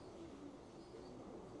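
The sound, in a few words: ash red pigeon cock bird cooing in the loft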